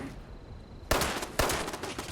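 Gunfire from a 10mm pistol in Fallout 76, two sharp, loud shots about half a second apart, each followed by a brief ring-off over faint game ambience.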